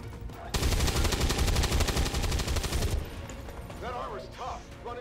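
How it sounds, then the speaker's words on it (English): Rapid automatic gunfire hits an advanced mech in the strategy game XCOM 2, a dense burst of about two and a half seconds followed by short metallic game effects and a lower background hum, with no speech. "We can take 2 solid shots onto this advanced mech."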